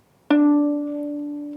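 A single bowed viola open D string sounds one low note, starting abruptly and sustaining steadily with a clear, rich tone.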